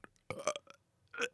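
A loud, drawn-out burp from a podcast host, rising in two bursts with a short gap between them, close to the microphone and with no other sound around it.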